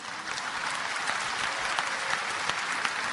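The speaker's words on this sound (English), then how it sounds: "you're clapping" An audience claps steadily and evenly throughout, a dense, continuous wash of applause with no voices over it.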